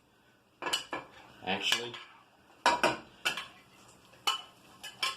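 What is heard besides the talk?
slotted spoon scooping tomatoes into a stock pot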